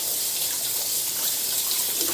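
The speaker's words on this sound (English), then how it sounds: "I'm just going to rinse off the top of the can" Tap water runs in a steady close gush while the top of a can is rinsed under it, a continuous bright splashing with no voice.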